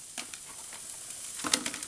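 Ground meat browning with onions in a frying pan, giving a faint, steady sizzle with a few soft stirring scrapes and one brief louder crackle near the end, and no one talking.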